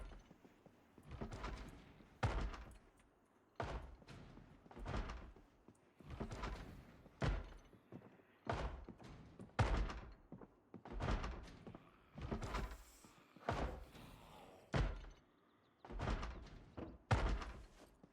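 A Project Zomboid zombie bangs steadily on a house door, a long run of heavy, regularly spaced thumps that stay loud and near throughout, with no voices over them.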